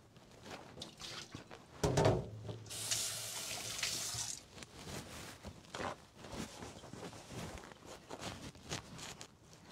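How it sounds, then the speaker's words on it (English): Water draining from beef into a container: a short splashing pour followed by a few seconds of hissing running water, close and moderate, amid kitchen clatter. "So all the water will be draining in there"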